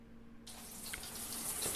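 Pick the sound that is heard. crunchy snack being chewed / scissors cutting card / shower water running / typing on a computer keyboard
shower water running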